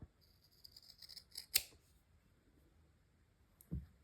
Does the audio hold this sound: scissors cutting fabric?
yes